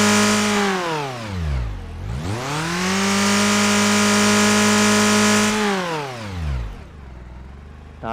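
A car engine revs hard twice as the accelerator is pressed, pitch sweeping up to a sustained high whine and then dropping back to idle, loud and close with no talk.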